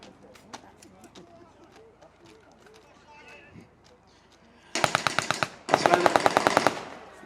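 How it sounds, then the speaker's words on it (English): A 9mm Sten submachine gun fired by a paratrooper in a battle re-enactment at a railway station, heard as two loud close bursts of rapid automatic fire after quieter background noise and birdsong. "Now the paratrooper there using his Sten"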